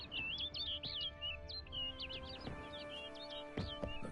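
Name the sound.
bird chirping in The Witcher 3 video game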